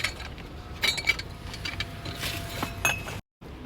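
A fancy wine glass picked up from a pile of secondhand items outside a thrift store gives a few light clinks and knocks amid rustling handling noise and faint outdoor background.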